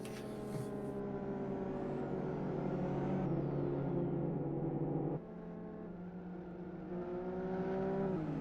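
Several race cars in the Live for Speed sim during an MRc GTR Monday 2021 race, engines droning with layered revving pitches that rise and fall as gears change, one car shifting down sharply partway through, steady and fairly loud with no talking.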